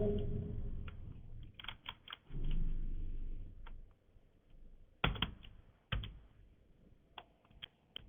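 Computer keyboard typing in Notepad, with bursts of key clicks in irregular clusters and a low rumble of background noise between them, fairly quiet and close.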